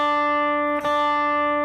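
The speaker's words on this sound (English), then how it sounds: "So it should sound like that for your high E string" An electric guitar's high E string, tuned down a whole step to D, rings as a single sustained note with a steady tone and a faint brief touch partway through.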